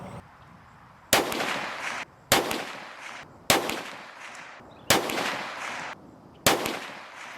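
Five sharp pistol shots ring out from an FK Brno PSD firing 7.5 FK 95-grain rounds at a 25-yard range. The reports are loud and evenly spaced about a second apart, and each one trails off in a short, ringing echo.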